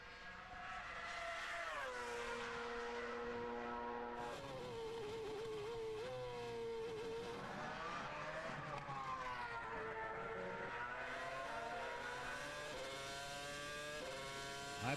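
McLaren Formula One car driven by Kimi Raikkonen during practice at the 2006 San Marino Grand Prix, its high-pitched engine screaming and shifting through gears as it passes, the whine rising and falling with several gear changes over a steady roar.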